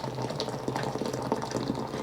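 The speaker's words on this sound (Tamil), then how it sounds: "பொங்கு தண்ணி, கொதி தண்ணி அதை எடுத்து நான் ஒரு கப்பில் ஊற்றுறேன்." Boiling water is poured into a cup during preparation of dough for Aadi kozhukattai, a steady close gush with no talk over it.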